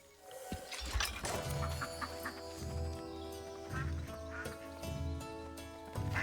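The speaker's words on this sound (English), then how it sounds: "Oh, I hear a duck." A duck quacks in the video game Soulframe, its calls repeating among other farm-animal sounds, including hooves and clucking, with a soft game music backdrop and no talking.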